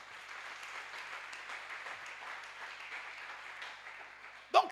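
A church congregation applauds and cheers for the Lord, a steady wash of distant clapping heard faintly throughout, ending in a brief sharper sound.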